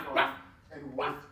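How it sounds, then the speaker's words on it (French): A dog barks twice in quick succession nearby, sharp and fairly loud, with faint room noise between the barks. "il y a un chien là"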